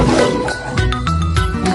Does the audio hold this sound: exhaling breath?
no